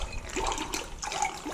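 Sweet and sour mix pouring from a jet pourer into a cocktail glass, a short steady splashing trickle of liquid, close by and without talk.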